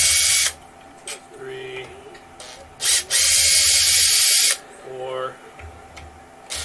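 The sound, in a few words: power tool removing bolts from a small engine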